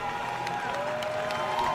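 Roadside spectators at the Ottawa 10k race cheering and clapping in a steady, continuous wash of crowd noise, with a whistle-like tone and a voice drifting through.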